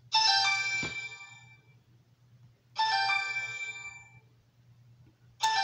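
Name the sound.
telephone ringing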